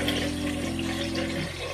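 Tap water runs steadily into a sink while a face mask is rinsed off at home, a continuous close splashing hiss with a low hum beneath it that eases slightly near the end.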